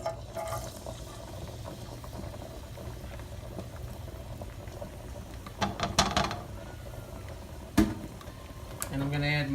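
Garlic hisses and crackles in hot oil in a pan for pasta with garlic and oil. A soft, steady sizzle runs throughout, with a few louder bursts and clinks near the end and a voice briefly present.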